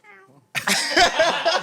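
A cat meow soundbite: a faint, brief tonal cry, then a louder, drawn-out yowling meow that wavers in pitch and runs to the end.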